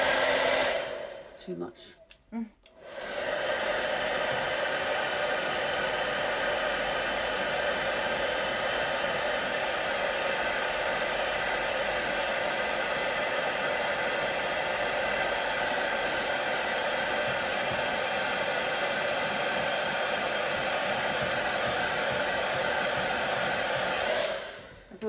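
A hair dryer blasts steadily to dry ageing makeup on a face, a loud continuous roar running nearly the whole time after a brief stutter at the start, with a few words spoken before it.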